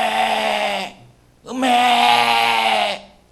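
A voice imitating a young calf's moo, two drawn-out bleating calls with a short pause between them, close and loud.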